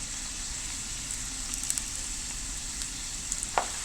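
Potato peels sizzle steadily in hot oil, a soft continuous frying hiss with a few faint crackles and pops near the end, no voices over it.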